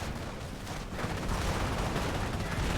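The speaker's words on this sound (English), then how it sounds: "Flak 88s mainly targeting to these infantry." Flak 88 guns in Company of Heroes fire at infantry, a loud, dense barrage of booming shots and blasts that swells and keeps going with no voices over it.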